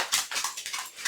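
A puppy whimpering close by, a series of high, thin whines and yips in short bursts.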